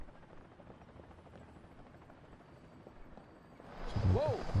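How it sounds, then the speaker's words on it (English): Security choppers in the video game Sly Cooper: Thieves in Time whir faintly under game ambience, then swell louder with a rising and falling engine tone near the end. "Those security choppers are bad."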